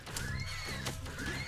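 A horse whinnies in an online game, a loud drawn-out neigh over low game music, with a faint hoofbeat clatter beneath it.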